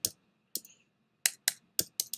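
Isolated keystrokes on a computer keyboard, close and crisp: a couple of spaced clicks, a pause, then a quicker run of four or five presses in a quiet room.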